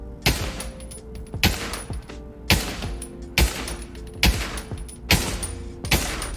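Repeated gunfire in a VR shooting game played on a Pico 4 or Quest 2 headset: seven loud, sharp shots spaced roughly a second apart, each with a short ringing tail, and no voices.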